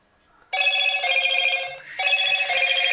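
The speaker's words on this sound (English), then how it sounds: "the phone's going mad" A telephone rings loudly and close by in two long electronic trills separated by a brief gap, with a faint low thump between them.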